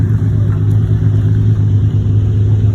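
Several Lamborghini Countach supercars rumble past in a convoy, a loud, steady low engine drone with revving swells and no talk.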